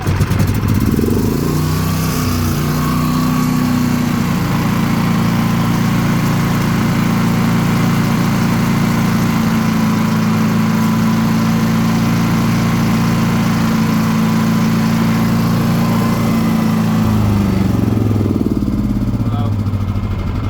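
A Predator 9500 generator from Harbor Freight, with a carbon monoxide sensor that keeps shutting it off, starts and runs loud and close with a steady droning hum for about fifteen seconds, then winds down as it cuts out, with someone talking over it.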